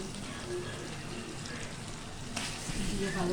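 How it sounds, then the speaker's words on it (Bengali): Spices for a country chicken curry sizzle and fry in hot oil in a pan, a steady soft crackle with occasional stirring scrapes, moderately quiet. "দিয়ে ভালো করে কষাইতে হবে। তেল ছাড়া পর্যন্ত আমাদের কষাইতে হবে।"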